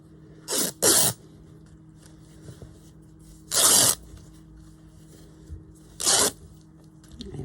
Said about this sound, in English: And then rip it.